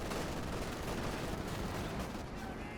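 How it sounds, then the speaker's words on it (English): Heavy tank cannon fire and gunfire from a Company of Heroes 2 battle, a dense, continuous roar of shots and blasts across the whole stretch with no clear gaps. "tank opening fire, slowly pushing him back"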